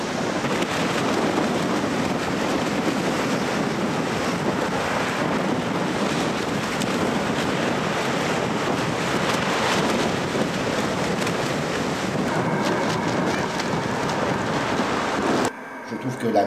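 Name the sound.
sea waves breaking on the shore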